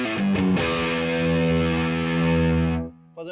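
An electric guitar through a Gurus 1959 Double Decker distortion pedal rings out a thick, saturated sustained chord after a brief choppy attack, then cuts off sharply.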